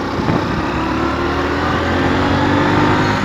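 A motorbike engine pulls hard right after a shift into second gear, a loud, steady, close-up drone that holds for a few seconds with no talk.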